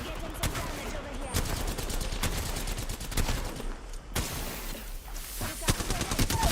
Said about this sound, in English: Shots fired at me.